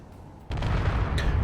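A small missile detonates against a small-grid ship in Space Engineers, setting off a sudden loud boom midway that swells into a sustained, rumbling roar with crackling debris, after a quieter lead-in.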